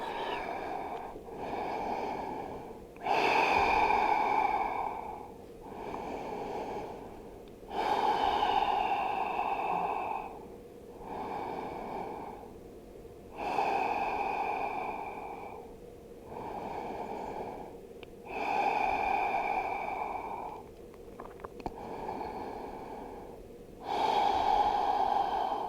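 Slow, deep breathing while holding a stretch in a flexibility routine, about six long rhythmic breath cycles of loud airy inhales and exhales, close to the microphone with no talking.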